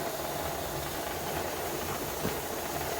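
Steam venting from a pressure canner while turkey is being canned, a loud, steady, unbroken hiss that holds at the same level throughout, with no voices.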